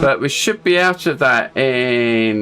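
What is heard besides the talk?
None of the usual background noises is heard.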